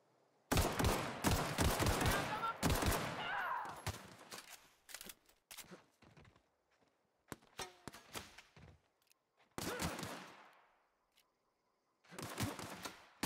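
Gunfire in The Outer Worlds video game comes in several loud, sharp bursts of rapid shots separated by quiet gaps, with a few lone shots and short echoing tails.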